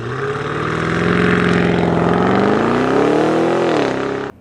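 A Cadillac CT6-V Blackwing's engine roars loudly and steadily, its pitch climbing gradually as the car accelerates, then dipping before cutting off abruptly at the end.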